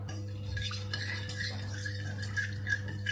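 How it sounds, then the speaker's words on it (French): A utensil stirs mustard vinaigrette in a bowl, giving soft scraping and clinking strokes that repeat in an uneven rhythm over a steady background hum, close and fairly quiet, with no talking. "Donc on remue tout ça."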